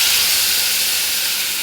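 Peanut coconut chutney hits hot tempering oil with mustard seeds, urad dal, onion, dried red chilli and curry leaves, giving a loud, steady hiss of sizzling that holds constant throughout.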